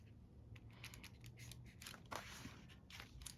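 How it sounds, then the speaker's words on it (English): Paper offcut from junk mail being torn by hand, soft crinkly rips and rustles in quick close bursts, quiet and continuous. "I could take part of this offcut and tear it down"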